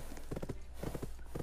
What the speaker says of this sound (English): there are 4 horses right here